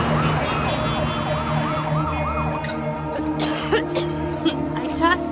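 Ambulance siren wails in a steady rising-and-falling cycle at close range, then fades. Traffic noise and a few sharp knocks follow, and voices talk under the siren.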